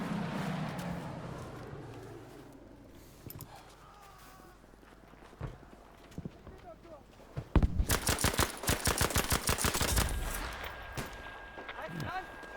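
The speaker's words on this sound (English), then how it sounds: "There's firing." Gunfire in Battlefield V, a rapid burst of automatic shots after scattered footsteps and game noise, loud and close in the latter half, with voices talking over the scene.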